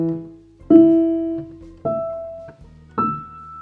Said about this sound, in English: here's an E note being played at 4 different octaves